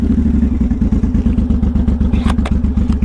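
A 2014 Suzuki M109R BOSS cruiser engine pulls along while riding: a loud, steady, low rhythmic throb of thumping pulses with light mechanical clatter, and no voices.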